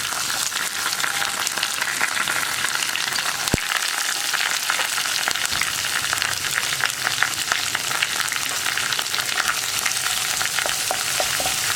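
Chopped ginger, garlic and green chili fry in hot oil in a pan, a loud continuous sizzle with occasional stirring scrapes, close up and without talk.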